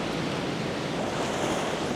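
Ocean waves wash onto the shore in a steady, dense roar of surf with wind noise, loud and continuous without distinct breaks, no voices.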